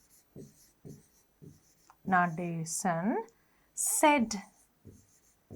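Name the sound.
writing by hand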